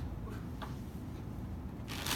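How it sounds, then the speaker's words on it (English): A deck of playing cards being shuffled, with soft riffling and papery bursts over a steady room hum, the crispest flutter coming right at the end. "So shuffle the cards"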